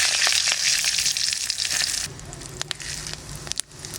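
Dried chillies and bay leaves sizzle and crackle in hot mustard oil, a loud close frying hiss that softens partway through, with a few sharp pops and clinks near the end.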